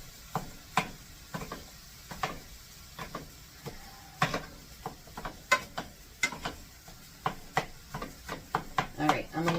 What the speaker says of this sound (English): I'm just going to re-chop up that burger.